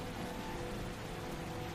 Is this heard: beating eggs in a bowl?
no